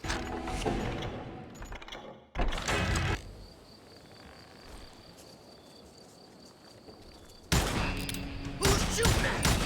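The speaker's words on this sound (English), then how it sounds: "Who's shooting at us? We're under fire!" Video game gunfire, bursts of rapid loud shots at the start and end with a quieter mechanical stretch between, close and harsh.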